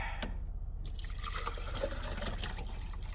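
Cold water sloshes and trickles in a water bottle taken from a fridge, a faint close liquid pour with a few drips under steady background rumble, no talking.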